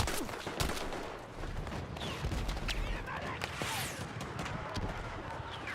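Gunfire in the video game Battlefield 6, a steady crackle of shots and bursts under a noisy battle background, with a player talking over it at moderate volume.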